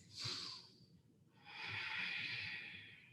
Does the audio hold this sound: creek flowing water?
no